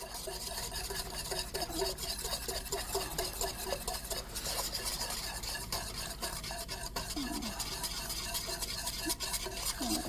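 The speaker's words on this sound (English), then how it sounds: "whisk our cornmeal in." A whisk works cornmeal into milk simmering in a pot, making a continuous rapid scraping and swishing rhythm that stays close and steady throughout, with no talking.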